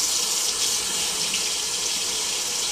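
Cold water runs steadily from a tap into a bowl or sink, a constant close hiss and splash with no pauses and no voices.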